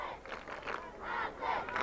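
A Montgomery supporter starts a cheer at a boys' high school soccer game, a loud chanting yell carried by a crowd of voices in rising and falling waves, fairly close.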